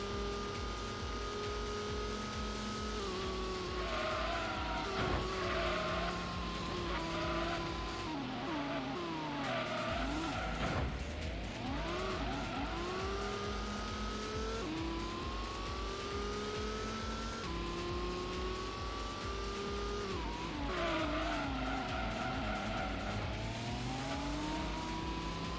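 Race car engines in the Gran Turismo video game rev hard and continuously, with rising and falling pitch through gear changes and corners and brief tire squeals, loud and unbroken across the whole stretch.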